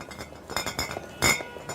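Small glass bottles of cooking oil clink together in a few light, bright taps at a village vendor's stall, the strongest chink near the end, close and fairly quiet.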